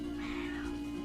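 A pet cat gives one soft, drawn-out meow indoors over a steady electrical hum.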